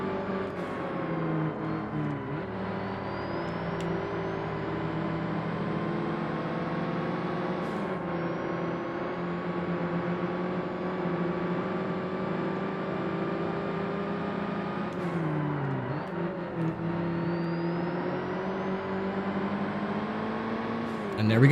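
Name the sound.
4x4 rally car driving, from Forza Motorsport video game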